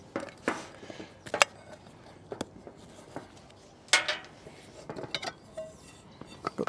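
Metal Trangia 27 cookware, a 2.5 litre billy can and fry pan, clinks and clatters as it is handled, with sparse, irregular knocks and light rattles at moderate volume and quiet gaps between them.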